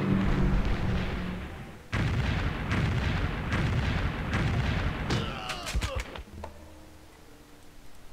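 Heavy artillery fire in a Civilization III World War II scenario on the French front: repeated booming blasts with dense rumbling bursts that stop abruptly, followed by a quieter tail with a few sharp crackles.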